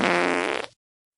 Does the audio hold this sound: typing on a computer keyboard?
no